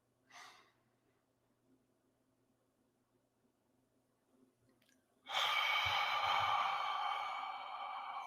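A deep, slow breath drawn during a guided breathing exercise. A faint short breath comes first, then a long, loud, airy rush of breath that fills the last three seconds, heard close and alone.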